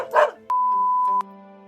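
A single cartoonish dog bark sound effect rings out, quickly followed by a clean, sustained electronic chime tone that ends with a second click, all without speech.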